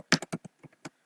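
A short burst of about seven quick keystrokes typing code on a computer keyboard, crisp, close and uneven in rhythm, with no talking.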